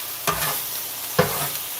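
Pork fried rice sizzles in a hot pan, with two sharp stirring scrapes standing out against a steady hiss of frying; no one speaks.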